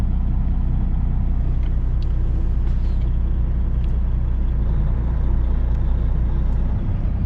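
A car travels on the snowy shoulder of I-94 in Michigan during a snowstorm, heard as a heavy, continuous low road rumble that stays loud and even throughout, with faint scattered clicks above it.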